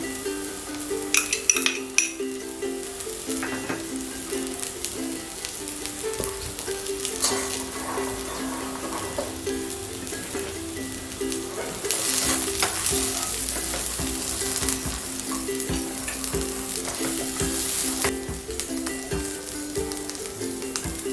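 Sweet corn fries in a pan over a low flame, with a steady sizzle and frequent stirring, scraping and light clinks of a utensil against the pan.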